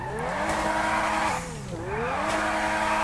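Supercar in a racing video game revving hard, a bright engine whine climbing through the gears with a brief dip at a shift, tires squealing underneath.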